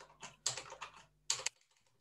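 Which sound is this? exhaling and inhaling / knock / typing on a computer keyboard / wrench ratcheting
typing on a computer keyboard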